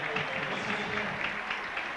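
Crowd cheering at a Bradford versus Wigan rugby league match, a steady, dense roar of a large stadium crowd sustained throughout without any break.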